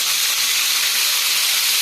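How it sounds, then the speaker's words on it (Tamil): Lemon pieces and curry leaves sizzling in hot oil for an instant pickle, a steady, dense, close hiss that stays loud and unbroken throughout. "இதை அப்படியே வதக்கிக்கிடலாம் இந்த எண்ணெயில்"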